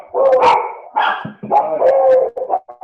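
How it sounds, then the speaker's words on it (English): A pet beagle barks and bays in several loud, close bursts, the calls drawn out into howling yips with brief gaps between them. "The beagle sound, oh my God, she drives me nuts."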